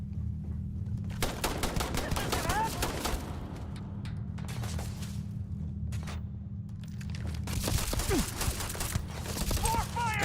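Rapid automatic gunfire from a weapon in the video game Starfield rattles in loud bursts, pausing briefly between volleys, with a low steady background hum and occasional short voice sounds.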